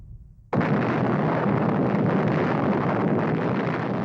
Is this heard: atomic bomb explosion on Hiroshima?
yes